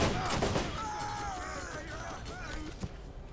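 Gunfire in the video game Borderlands comes as a dense barrage of shots layered with game effects and whooshes. A voice talks over the shooting.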